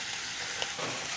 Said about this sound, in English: And I'm just going to saute these for a little bit.